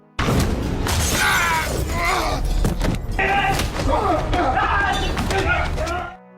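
Window glass shatters during a film fight scene, loud crashing and breaking bursts layered with thuds, running continuously under a narrator's voice.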